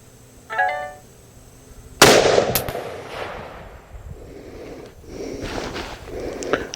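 A single loud, sharp rifle shot from a Ruger Model 77 MKII in .264 Win Mag, fired outdoors, followed by a long rolling echo that fades over several seconds, with a brief chirp just before it.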